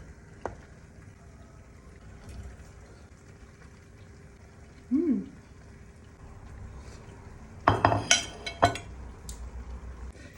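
Pasta stirred through bubbling pink sauce in a pan, a low simmering bed with a soft squelch midway and a cluster of close clinks and scrapes from the utensil against the pan.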